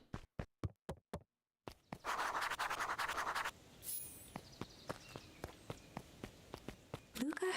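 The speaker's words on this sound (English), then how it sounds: "Luca heard a group of footsteps approaching" Footsteps approach in Beacon Pines, a cute critter adventure game, as a run of sharp, evenly spaced knocks. A scratchy rustling burst breaks them up before the steps carry on steadily, close and moderately loud, with no talk.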